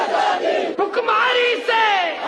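Large protest crowd chanting in unison at Jantar Mantar in New Delhi, loud rhythmic voices in short repeated phrases with brief pauses between chants.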